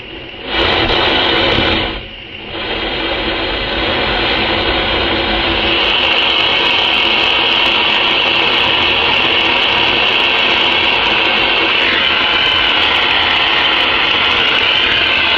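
Gold jewellery, an old bracelet and ring, being melted in a crucible in an old craft workshop: a loud, steady roaring torch or furnace that dips briefly near the start, then holds a constant harsh hiss.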